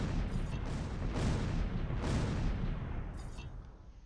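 Gunfire and shell impacts rumble across a Close Combat III wartime battlefield, several heavy booming shots arriving in a steady irregular rhythm under constant low roar, fairly loud and without talk.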